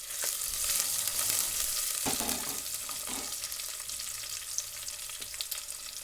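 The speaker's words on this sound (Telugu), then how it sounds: "అది బాగా వేగనివ్వాలి." Hot oil sizzles hard in a pan as pieces fry, a loud, close, continuous crackle that swells early and settles into a steady hiss, with a scrape or two of stirring.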